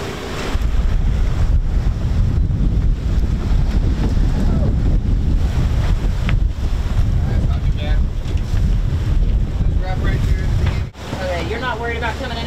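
Sailboat under engine power with no sails set, pushing through rough, current-driven water in a strait; a steady loud rush of wind buffeting the microphone and water slapping the hull, with brief voices, and the noise drops sharply near the end.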